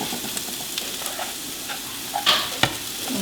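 Quinoa goes into a hot pan of vegetables seasoned with spices and black pepper over lowered heat, giving a steady soft sizzle with a couple of sharper scrapes and stirs near the end, close and without talk.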